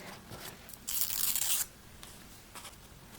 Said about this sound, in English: To finish it off, I'm adding strips of grid washi tape.